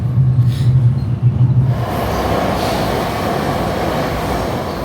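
An MRT train in Chongqing rolls along with a steady, loud rumble and a broad hiss of wheels on rail, the low drone deepening into a continuous roar inside the carriage.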